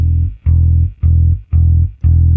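Four sustained, deep low notes from the E string of a short-scale bass guitar, each held for about half a second with short breaks between them, loud and alone with no other sound.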